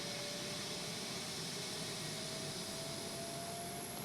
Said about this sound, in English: I hear the APU coming to life